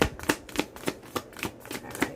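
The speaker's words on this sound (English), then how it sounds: "I'm going to shuffle one more time" Tarot cards being shuffled in a steady run of about eight crisp riffling bursts, close and fairly quiet, with no talking.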